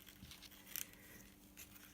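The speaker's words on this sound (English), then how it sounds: "I am just going to snip it like so." Scissors snip through paper while a December day book is being embellished, giving a few quick, crisp cuts close by in a quiet room, with one sharp cluster of snips standing out.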